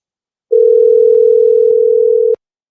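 Steady telephone dial tone on a new phone line, a loud continuous hum lasting about two seconds that starts and stops abruptly, with no talking over it.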